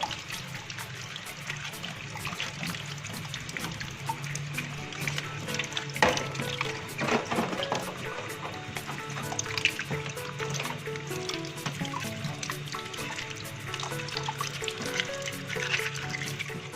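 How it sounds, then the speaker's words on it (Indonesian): Running water rinses a cleaned crab, with a steady splashing stream, drips and wet handling noises throughout, close and continuous. "cuma tinggal kita bilas"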